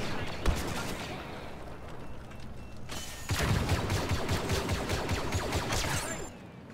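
Rapid blaster gunfire in Star Wars Battlefront 2 multiplayer combat, dense overlapping bursts of shots that thicken into a sustained barrage after a brief lull.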